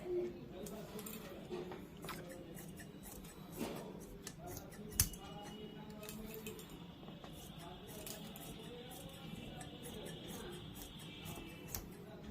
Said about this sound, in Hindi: अब इसको हम लोग काट लेंगे।